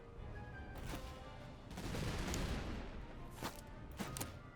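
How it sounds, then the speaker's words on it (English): Musket volleys crackle in the Napoleonic-era game Master of Command, several rolling bursts of massed distant fire with a swelling rumble in the middle, moderately loud over a low ambient bed. "Let's open fire."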